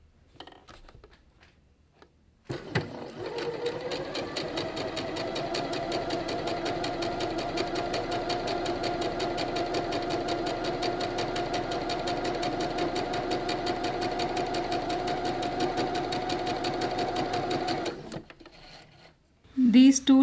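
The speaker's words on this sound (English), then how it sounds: "Now I'm doing the straight stitch with the jersey needle." A sewing machine runs a straight stitch through jersey fabric with a jersey needle, a steady mechanical whir with rapid needle ticking that holds evenly for about fifteen seconds before stopping.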